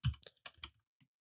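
A handful of close computer-keyboard keystrokes land in a short uneven cluster, with a soft thump at the start and a faint final tap.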